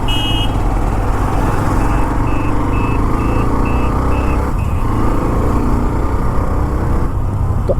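A truck reverses close by, its steady chain of electronic backup beeps pulsing evenly over a loud, constant engine and road rumble along a busy road.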